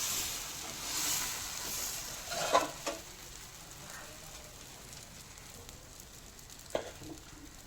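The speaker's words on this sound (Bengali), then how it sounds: "একই পদ্ধতিতে একই সময় সমস্ত পরোটাগুলো আমি ভেজে নিয়ে ফিরে আসছি" Paratha frying on a hot tawa gives off a soft, steady sizzle with a few brief crackles and clinks, faint and close, with no talking.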